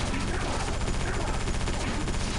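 Dense, continuous video-game gunfire from Area 51 (2005), rapid overlapping shots forming a steady loud barrage for the whole stretch, with possible voices faintly beneath.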